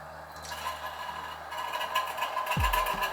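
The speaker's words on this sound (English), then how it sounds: "And I'm just pouring it back into the pot." Water poured from a tomato can into a pot of minestrone soup, a steady close splashing hiss that swells louder, ending with a low gurgling slosh.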